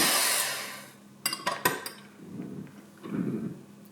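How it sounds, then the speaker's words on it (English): An electric mixer whirs through egg whites being whipped to stiff peaks for Belgian waffles, with a few sharp clinks and scrapes of the beaters against the bowl and a steady hum between them, no voices. "beat our egg whites till they get nice and fluffy"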